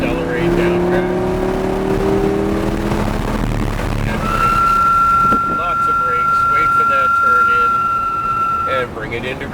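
A Lamborghini Huracán LP610-4 on a track day course in Joliet, Illinois, accelerates with a steady loud engine roar and rising pitch, under an instructor's voice talking over a radio.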